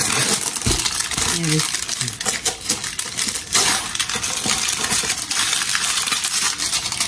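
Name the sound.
paper wrapping being removed during unboxing, crinkling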